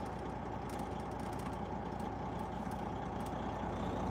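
A truck with a 13-speed transmission pulling in third gear, shaking as it strains, gives a steady, loud, dense engine rumble with faint rattling throughout and no voices.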